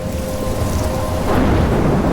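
Thunder rumbles heavily over steady rain in a stormy outdoor scene in the video game Life Is Strange, loud and close with a deep swelling roll.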